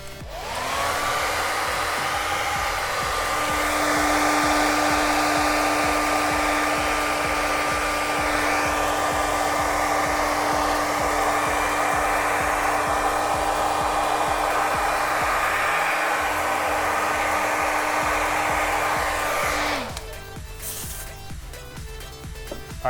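A hair dryer blows steadily and loudly for about twenty seconds over freshly airbrushed paint on a steel panel, then cuts off abruptly, leaving rattling handling noise.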